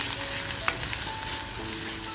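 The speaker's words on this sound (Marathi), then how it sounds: "छान असा आपल्याला हा मसाला परतवून घ्यायचा आहे" Masala sautéing in oil in a pan for a village-style salted dried fish and drumstick potato curry: a steady, close hiss and sizzle with a brief clink of stirring, no voices.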